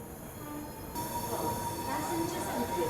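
A train rolls into Rewari station with a steady, close rumble and rail hiss, a faint squeal running through it and a brief rise in noise partway, crowd murmur in the background.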